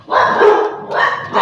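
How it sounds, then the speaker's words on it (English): A household's dogs bark close by in two or three quick, loud bow-wow bursts with no voices over them. "That's our dogs."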